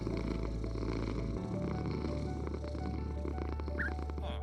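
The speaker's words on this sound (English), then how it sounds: "Come back here, cat." A cat in Minecraft purrs, a low rumbling purr that runs the whole time up close, with game background sounds layered over it.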